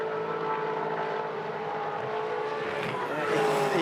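A Supercars race car at the Taupō circuit, its engine howling in sustained, close-up tones that rise toward the end of the clip as it comes out of the final corner after oversteer.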